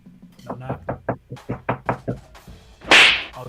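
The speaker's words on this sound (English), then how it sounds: "Can I get a knock at the door, please?" A run of about a dozen quick, evenly spaced knocks on a door, close and crisp, ending in a louder bright clatter, with no talk over the knocking.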